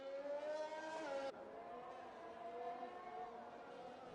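Race car in a racing video game on the San Marino circuit, its engine holding a high whine through a chicane, then dropping in pitch as it shifts and steadily building again, moderately loud and alone.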